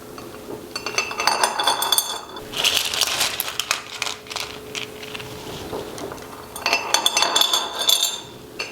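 Small rocks clink and rattle against glass in several bursts as they are gently poured into a glass terrarium as a first layer, with quieter pauses between handfuls.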